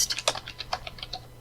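Code being typed on a computer keyboard: a quick, close run of light, crisp key clicks at an uneven rhythm, with no voices.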